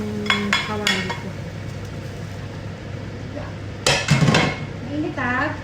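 Metal frying pans (kawali) clank and scrape as a small pan is swapped for a bigger one on a home stove while cooking ginataang sigarilyas, with sharp knocks and utensil clatter and a voice talking briefly.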